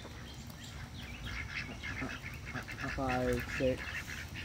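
Ducks on the water give a couple of short, nasal quacks near the end over a noisy outdoor background, while a person speaks softly throughout.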